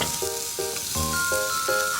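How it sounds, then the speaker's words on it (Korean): Sliced green chilies stir-frying in perilla oil for an anchovy-and-chili braise give off a steady, close sizzle that runs throughout under faint melodic tones. "그래서 먼저 볶아주세요."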